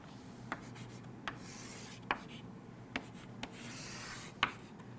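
A pen draws curves on a board, making faint, soft scratching strokes with several light taps spaced irregularly, quiet and close with no talking.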